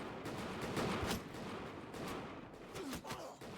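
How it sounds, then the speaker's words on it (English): Musket volley fire in a Bannerlord Europe 1700 battle against French troops, a dense crackle of distant overlapping shots rolling on continuously with a few louder pops. "Get the musket ready and fire, damn it!"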